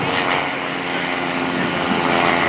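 Kent Pietsch's Interstate propeller plane flies at the 2017 Melbourne Air & Space Show, a steady broad engine and prop drone holding level throughout without breaks.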